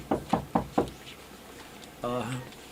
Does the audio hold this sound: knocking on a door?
yes